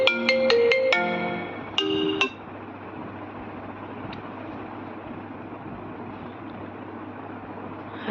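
A phone rings with an incoming call, a bright melodic tone pattern repeating twice near the start before cutting off, leaving quiet room hum.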